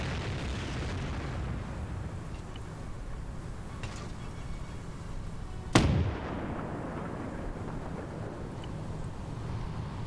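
A single artillery shell bursts at mid distance in a WW2 multiplayer battle game, one sharp crack with a short rumbling tail over a steady windy, noisy background.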